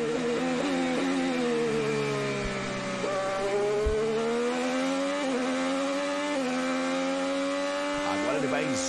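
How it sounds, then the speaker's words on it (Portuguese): Hélio's Chevrolet IndyCar engine at the 2017 Toronto race screams at high revs, its pitch climbing and dipping through repeated gear changes and braking, loud and continuous from start to finish. "Vamos sentir a saúde do motor Chevrolet do Hélio."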